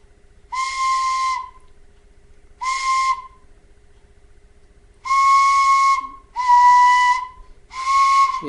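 A Clarke tin whistle sounds the note B with a hole not fully covered, giving five breathy, airy whistled tones, each about a second long, separated by short pauses, close and fairly loud with a hissy edge.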